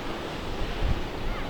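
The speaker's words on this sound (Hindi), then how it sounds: "उसके बाद उठी खतरनाक लहरें घरों को गिराती गई" Dangerous Atlantic waves stirred by cyclones Humberto and Imelda break along a shoreline of houses, a steady wash of surf and wind with one brief heavier surge.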